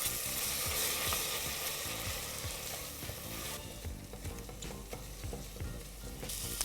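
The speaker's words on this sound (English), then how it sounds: "I'm also adding in paste of ginger and garlic and mixing this till the raw flavor of ginger and garlic goes away" Spinach frying with ginger-garlic paste in a pan over a medium flame, a steady close sizzle under repeated scraping stir strokes, with no talking.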